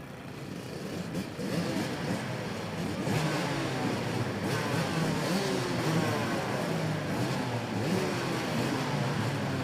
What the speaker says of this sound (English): So the engines have fired here